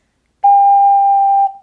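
A single sustained G note played on an ocarina, a pure steady whistle-like tone held for about a second before stopping, with a faint tail, alone and close.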